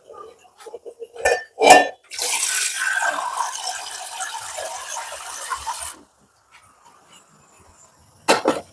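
A pot being filled with water for boiling eggs: metal clanks, then a steady rush of water for about four seconds, close and fairly loud, with brief knocks after.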